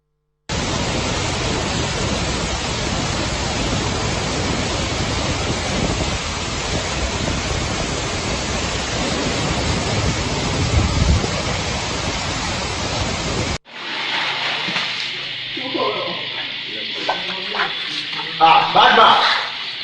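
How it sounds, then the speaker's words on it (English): Floodwater courses through flooded streets past houses and a business block in Ghana like a river, a steady broadband rushing roar that lasts most of the way, then gives way to a quieter outdoor scene with voices. "This is now a river."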